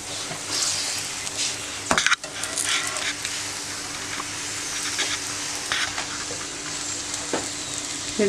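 Paratha frying in a pan, pressed down with a cloth: steady close sizzling with occasional scrapes and clinks of the pan, loud and without talk.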